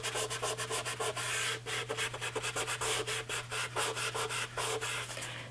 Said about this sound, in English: I'm rubbing in the same direction and even a little beyond where I have used them.